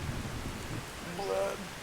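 Rain in the video game Skyrim makes a steady soft hiss of falling drops, with low rumbling underneath and faint muffled talk in the background.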